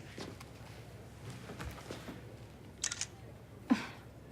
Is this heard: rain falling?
no